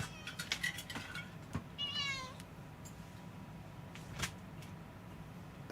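A house cat meows several times indoors, a few short cries and one longer rising meow, fairly close against a quiet room background.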